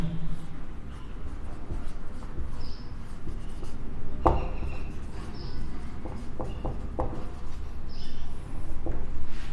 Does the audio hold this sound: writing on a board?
yes